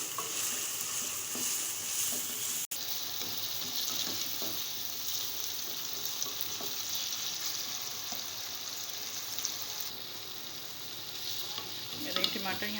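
Roughly chopped small tomatoes sizzle steadily in hot oil in a pan as the base for a chicken gizzard gravy, a continuous bright frying hiss with occasional stirring clinks and no talk.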